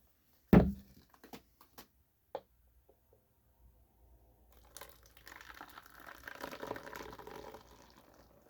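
Recarbonated Pepsi Lime from a SodaStream poured back into its original bottle: a few sharp clicks and knocks, then a steady rushing, fizzing pour with bubbling that builds for several seconds, close and moderately loud.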